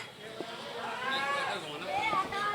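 Native desi goats bleat and call at a crowded goat market in Lucknow, a continuous mix of animal cries over a busy background of people talking nearby.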